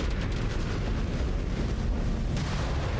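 A missile blast in the Mechwarrior 5 Clans video game, a dense, rumbling explosion that roars continuously for a few seconds at close range.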